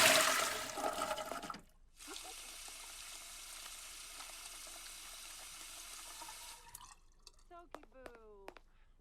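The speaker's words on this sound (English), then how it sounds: "He's going to take a shower." A Sim's shower runs in The Sims 4 as a steady, hissing spray of water that holds evenly for several seconds. It starts after a brief louder splash and gives way to sparse game sounds near the end.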